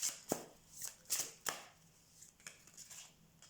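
Tarot cards being cut from the deck during a reading: a few soft, dry card snaps and light slaps, close and quiet, with short gaps between them.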